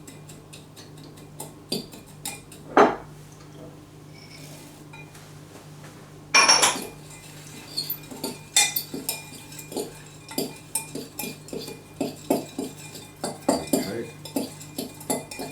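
A spoon clinks and scrapes against a bowl while spice mix and chopped pecans are stirred together, irregular taps and clatter under a faint background hum, with a brief spoken word.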